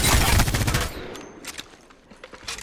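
Devotion energy light machine gun in Apex Legends firing a rapid sustained burst up close, then tapering into scattered distant shots and clatter.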